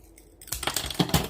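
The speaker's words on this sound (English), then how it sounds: "I'm just going to take my scissors" Scissors snip through a pair of wooden lollipop sticks pinched together, giving a few close, crisp cutting clicks in quick succession after a quiet start.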